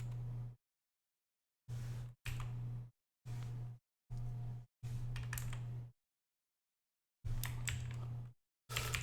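Short bursts of typing on a broken computer keyboard, several gated clusters of clicky keystrokes cut off abruptly by dead silence between them, with a steady low hum under each burst.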